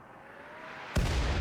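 A single loud gunshot bursts out in a RimWorld colony battle, sharp and sudden with a booming tail, after a low steady hum of game ambience.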